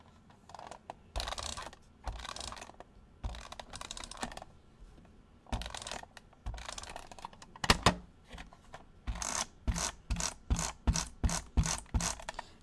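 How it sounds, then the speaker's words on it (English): A tape gun pulls and dispenses packing tape in repeated bursts of ripping, rattling screeches, close and crisp, spaced at first and then coming in a fast regular run of short pulls near the end. "I think I'm going to use my tape gun."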